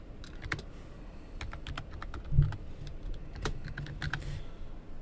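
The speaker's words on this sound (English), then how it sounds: "Probably because I'm just smashing keys over here." Computer keys clatter in quick, uneven bursts as someone hammers at a keyboard, with faint close clicks over low room noise and a single louder thump partway through.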